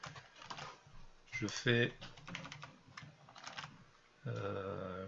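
Clicks and taps from a computer keyboard come in short irregular bursts while someone writes code. Someone speaks French over the typing.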